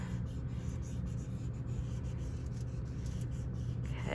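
A marker dragging across aluminium foil gives a steady, close scratchy rubbing that runs on without a break at a low, even level.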